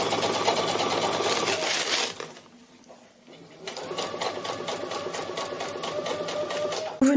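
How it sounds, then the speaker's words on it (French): A sewing machine runs a holding stitch around the traced outline of a quilted lining piece, a fast, loud mechanical chatter that pauses briefly in the middle before starting again at the same steady pace. "Nous venons donc d'effectuer la couture de maintien à la machine à coudre sur tout le tour du tracé de la pièce."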